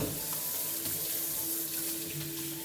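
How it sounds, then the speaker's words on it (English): Tap water runs steadily into a kitchen sink while potatoes are washed under it, a continuous close splashing hiss with no talking. "So what I do is I wash the potatoes."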